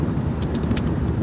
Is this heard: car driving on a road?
yes